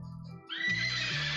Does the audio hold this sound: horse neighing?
yes